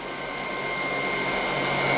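A Dreame T30 cordless stick vacuum running in eco mode gives a steady, close whirring hum with a faint whine that rises slightly in loudness.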